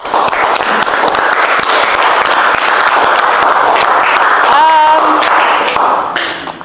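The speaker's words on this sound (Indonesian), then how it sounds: "Oke, beri aplaus untuk Alfred yang berani menyimpulkan pembelajaran hari ini." A classroom of students gives a student named Alfred a round of applause: loud, continuous group clapping that fills the room for several seconds, with a voice briefly rising over it before the clapping tapers off.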